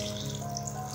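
About one and a half cups of water poured steadily into mixed chana dal in a pot, a continuous close splashing stream with no talk.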